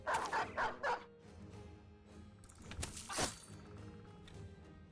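A dog in the video game Battle Brothers gives a quick burst of three or four sharp barks up front, then quieter scuffling game effects and a later whooshing hit, with no talk.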